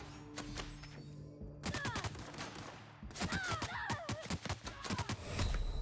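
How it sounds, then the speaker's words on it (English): Gunfire rattles through a firefight in The Outer Worlds, with rapid bursts of sharp shots in clusters separated by brief pauses, close and loud and punctuated by thuds. "I'm getting shot from the other side."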